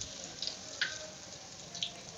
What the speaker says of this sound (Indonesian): ini saya goreng terongnya ya